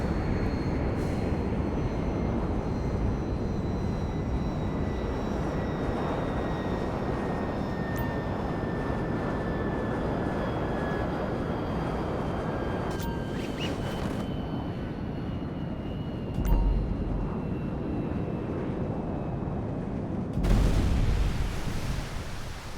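A plane crash-landing in water in Grand Theft Auto 5, heard as a steady roaring engine drone with rushing noise that lasts throughout, followed by a louder splash-like burst near the end.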